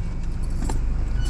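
Car keys jangle in a hand inside a vehicle, a short metallic rattle over a loud, constant engine and road rumble.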